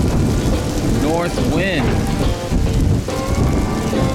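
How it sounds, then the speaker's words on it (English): Heavy rain pours continuously at a Florida glamping site, with a low rumble of thunder rolling beneath the downpour and people talking briefly over it. "Is that thunder?"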